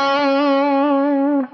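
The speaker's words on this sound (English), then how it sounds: "I'm sliding to the 6th fret of the G string." A single sustained electric guitar note slides up to the sixth fret of the G string, a clean singing tone that holds steady then cuts off, loud and alone.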